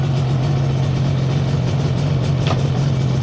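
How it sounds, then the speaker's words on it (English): A Yamaha RD350 YPVS two-stroke motorcycle idling steadily nearby, a constant low buzzing engine note with no talk. "let's just start her up. Lovely sounding little bike"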